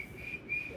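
A person whistles a few thin, high notes in a grandmotherly style, two brief held tones separated by a short gap, faint and close against a quiet outdoor courtyard backdrop.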